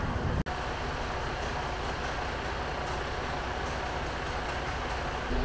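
A noisy truck passing close by on a London street, a loud steady rumbling drone of engine and road noise that holds throughout, with one brief sharp click near the start.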